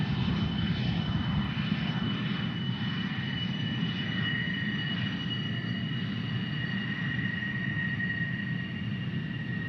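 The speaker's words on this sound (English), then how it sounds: "We got a whole flock of F-16s landing here" F-16 fighter jets landing at Tucson International Airport, a steady, loud broadband jet engine roar with a whining high tone that holds throughout without a break.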